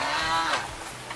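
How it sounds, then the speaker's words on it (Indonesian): Goats on a village farm bleating, a single drawn-out call that fills most of the moment, fairly close and alone with no talk. "Ini ada kambing binaan dari UNY"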